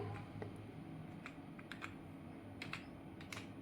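Quiet, irregular clicks of a computer keyboard as a folder name is typed on a PC, with key strikes scattered unevenly over a few seconds and no voice.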